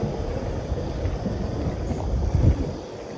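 Steady wind buffets the microphone while someone fishes from a small boat on Botany Bay. It makes a continuous low rumble with a brief stronger gust, and no one talks.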